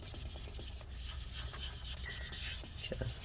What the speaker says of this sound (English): just wipe off anywhere that you see the sticky residue